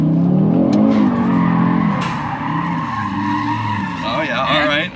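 A 500 hp Audi RS3 with traction control fully off slides and loops around, its engine roaring steadily with tire squeal mixed in, while people talk over the noise.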